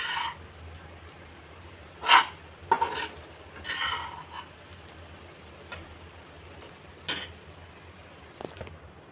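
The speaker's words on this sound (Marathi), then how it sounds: "त्याला छान एकजीव करून घ्यायचं आहे." Vegetable dish stirred and mixed in a pan, with a few clattering scrapes of a utensil against the metal and a soft sizzling hiss underneath, fairly close and with no talk.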